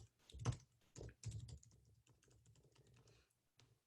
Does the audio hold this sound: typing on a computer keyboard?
yes